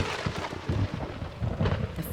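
Thunder in a storm with fierce lightning, rolling in deep, heavy rumbles that swell and fade over steady rain, loud and close throughout with no voices.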